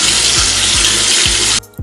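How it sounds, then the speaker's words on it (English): Tap water runs steadily into a sink during handwashing, a loud close broadband rush with a few soft low thumps, cutting off briefly near the end before resuming; no voices. "So y'all know I just washed my hands"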